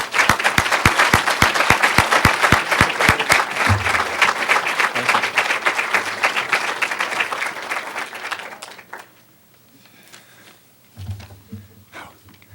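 An audience applauds to welcome guest speaker Jon McCourt at the GRCC Peace Conference, a dense sustained clapping that fills the room and fades out after about eight seconds, followed by quiet and a brief voice.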